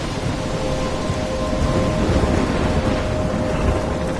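A game thunderstorm in Life is Strange, with heavy rain roaring steadily and low thunder rumbling underneath, a dense, loud wash of noise that never lets up.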